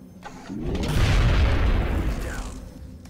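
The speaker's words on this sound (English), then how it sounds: "Heat ammo on robotic enemies." A heavy heat-ammo shot booms into a robotic enemy in XCOM: Enemy Within, a loud low rumbling blast that swells and lingers for about two seconds before fading.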